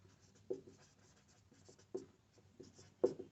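Chalk or marker writes on a classroom board in short, quiet strokes, with a few louder taps as letters are marked.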